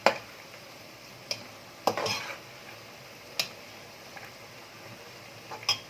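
Onion frying in a little oil in a pan for Egyptian koshari, a faint steady sizzle punctuated by sharp scrapes and clinks of a spoon stirring against the pan.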